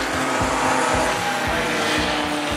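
Drag racing cars at a Festidrag event roar loudly and continuously, a dense, steady engine blast filling the whole moment with no pauses.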